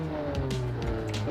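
A drag car engine in a modded racing video game catches and settles into a loud, steady running note, close up, with no voice over it.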